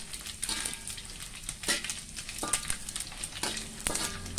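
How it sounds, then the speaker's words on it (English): Anchovies and potatoes fry in oil with a continuous close crackling sizzle, broken by sharper pops and a few light utensil clicks, with no voices. "Just fry for a while. Do not make it too dark because you get bitter."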